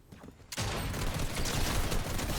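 Rapid gunfire crackles in a Fortnite match, a dense continuous burst of shots starting abruptly after a short quieter moment and staying loud to the end.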